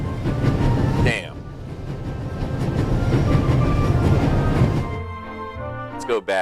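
A train thundering along at full speed in The Raven Remastered video game, a steady loud rumble and rattle that fills the clip, with brief higher squeals near the start and end.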